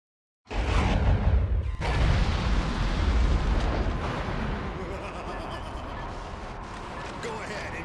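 Missiles explode in the video game Metal Wolf Chaos, a sudden heavy blast followed by a second boom that rolls into a long, dense rumble of continuing explosions, with a voice talking over it.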